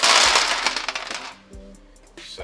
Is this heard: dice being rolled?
yes